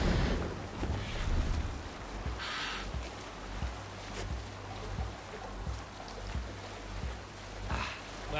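A sailing ship at sea in Assassin's Creed Valhalla, with steady wind noise and water washing against the hull, a continuous low rumble carrying soft rhythmic thumps like waves or oars throughout.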